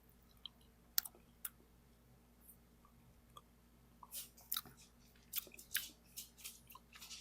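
Local honeycomb still in its plastic packaging being eaten up close, with soft crunchy bites, sticky clicks and wet chewing sounds that grow busier and more frequent toward the end, over a quiet background.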